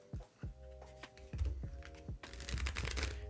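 Playing cards for a space-themed flip-and-write board game being shuffled by hand at close range: a quiet run of soft, uneven riffling clicks and taps that thickens into a denser flutter near the end.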